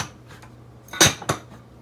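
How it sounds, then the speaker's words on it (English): Dishes being put away in a home kitchen: a couple of sharp clinks of dishware close by, the first louder and followed by a second, softer knock over quiet room tone. "Putting dishes away."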